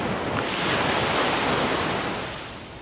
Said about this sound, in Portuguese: Vê, parece um de uma praia, sabe? Do mar mesmo.